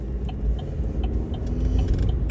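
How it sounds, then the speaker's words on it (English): A car rumbles along a street in Venice, Florida, a loud steady low engine drone with faint ticking, swelling at the end, no talk. "If that car turns, you can go quickly."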